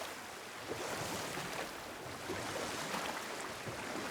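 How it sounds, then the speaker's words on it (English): Steady rushing surf of water in the video game God of War, a broad continuous wash of waves with gentle swells and some wind noise, with no voices. "There's the water, I think."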